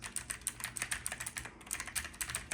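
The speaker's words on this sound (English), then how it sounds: "And then I have my Logitech G Pro keyboard, something like that. Sounds really nice." Rapid, steady typing on a Logitech G Pro gaming keyboard, crisp clacking keystrokes close up with a brief pause midway, no voices.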